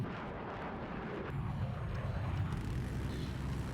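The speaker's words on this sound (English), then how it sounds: "And now we have the attack jet up." Attack jet flying in the Battlefield 4 video game: a steady roaring jet rumble that swells slightly louder partway through, continuous with no talk.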